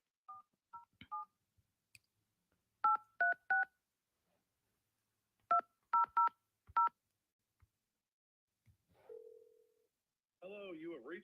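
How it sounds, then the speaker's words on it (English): Keypad tones sound as a call is placed on a telephone: short two-tone beeps in quick clusters of three, separated by pauses, then a brief steady tone and a warbling ring at the end, with no talking. "What kind of number was I trying to dial?"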